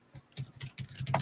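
Keys tapping on a computer keyboard in a quick uneven burst of soft clicks, close and fairly loud, with no voice over them.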